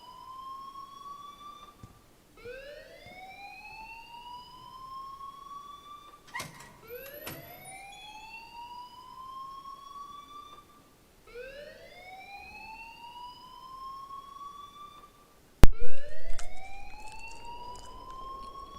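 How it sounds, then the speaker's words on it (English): A wailing siren-like alarm in the video game Life is Strange rises in repeated sweeping cycles, about every two and a half seconds, steady and mid-loud, ending in a sudden louder burst of noise. "please turn off that alarm since that's your job"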